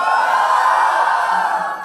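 A crowd at a Jaipur comedy show lets out a loud, sustained Punjabi cheer, a wall of whooping voices that holds steady and tapers slightly at the end.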